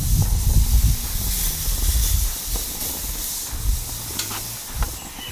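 Garlic butter chicken sizzles on a hot grill, a continuous broad hiss with faint crackles and pops beneath low rumbling background noise.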